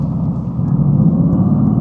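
A bus passes close amid ongoing traffic, a loud, dense low engine rumble that swells slightly and holds steady for the whole short stretch, without speech.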